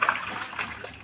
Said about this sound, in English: Wash my hands thoroughly.